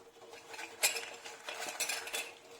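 Urad dal fritters dropped one by one into syrup in a metal pot, giving soft splashy plops and sharp clinks of a spoon against the pot, irregular and close, with no talking.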